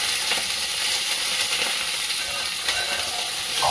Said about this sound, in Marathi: ते ह्या भाशेन बऱ्यो फ्राय जावपा जाय आनी खिमो भायर सरो नाका गायज